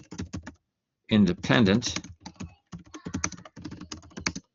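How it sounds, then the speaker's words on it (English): Computer keys clatter in quick irregular bursts, close and crisp, while someone speaks briefly over the typing. "my typing got better"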